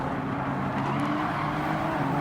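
Race car engines drone steadily in Gran Turismo 7, a dense, fairly loud whine of several cars in a braking zone with no clear impact standing out.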